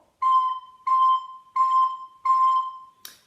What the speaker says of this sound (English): I would like you to use our new note C to play the first 4